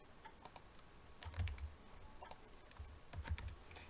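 A category name tapped out on a computer keyboard, with quiet, close keystrokes in short irregular bursts and small pauses between clusters of clicks.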